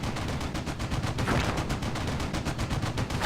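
Dense, rapid gunfire rattles continuously in the World War II video game Steel Division Normandy 44, a steady barrage of overlapping shots and bursts holding loud and even for a few seconds without talking.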